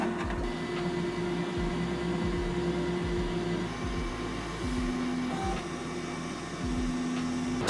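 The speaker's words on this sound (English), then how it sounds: "So the heater and all the fins are turned on for testing purposes. As you can see here, now the fan is actually spinning." A QiDi Plus 4 3D printer's heater fan spins with a steady, close electric whir and hum, punctuated by soft rhythmic thumps and a few brief higher tones.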